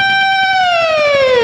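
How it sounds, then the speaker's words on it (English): Electric guitar whammy bar dive bomb on a natural harmonic at the G string fret, a bright, loud, sustained tone sliding steadily downward in pitch over about a second and a half, played alone. "I'm going to do a dive bomb on that note. So that's going to sound like this."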